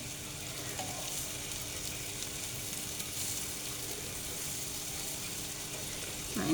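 Banana bread dough frying in a pan, a steady close sizzle of hot oil holding at an even level throughout, with a faint clatter near the end and no talking.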